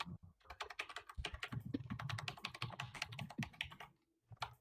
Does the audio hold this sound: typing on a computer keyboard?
yes